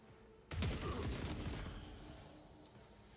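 Burst of gunfire in the video game Rogue Trader, a sudden loud volley that starts abruptly and then rings out and decays over a few seconds.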